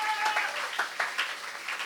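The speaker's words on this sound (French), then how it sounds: "Acclamons pour le Seigneur." Applause from a church congregation during a Sunday service, a steady spread of clapping with a few sharper accents, moderately close and continuous for a couple of seconds.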